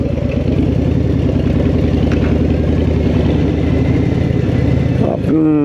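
Motorcycle engine running steadily while parking at a gurudwara on 118th St in Queens, New York: a loud, continuous close-up throb that falls away near the end, followed by a brief rising whine.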